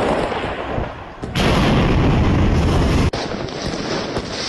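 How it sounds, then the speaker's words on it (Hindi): Gunfire in war footage, a dense, loud roar of shots with a sharp jump in intensity and brief cut-outs, harsh and continuous. "गन है इसके पास जिससे फायरिंग कर रहा है।"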